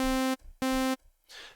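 A bright, buzzy synthesizer saw patch in Surge XT plays the same single C note twice, each hit short and evenly held, followed by a faint hiss.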